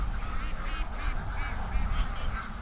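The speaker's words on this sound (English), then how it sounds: "look at this, the ducks are all in the pen" Ducks crowd together in a pen, honking and quacking in a loud, repeated nasal chorus over low rustling background noise.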